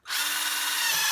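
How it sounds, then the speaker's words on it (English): A butterfly drill bit bores a hole while fitting a rear cargo rack to a Honda CRF250L, a loud steady whine that starts abruptly and holds without pause for about a second. "that butterfly bit drills fast"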